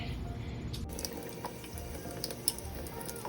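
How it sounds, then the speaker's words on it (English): Tap water runs steadily at a sink while lemongrass stalks are rinsed of dirt, a faint close splashing trickle with a few small drips and clinks. "Wash off the dirt."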